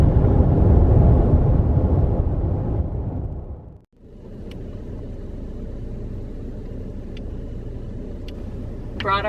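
A car rolls along a paved road through scenic mountain country, its tyre and engine rumble loud at first, fading briefly, then a steadier drone continues with faint chirps above.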